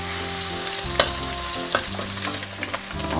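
Garlic shrimp fried rice being stir-fried in a pan, a steady close sizzle broken by a few sharp scrapes and clacks of the utensil as everything is mixed together, no voices.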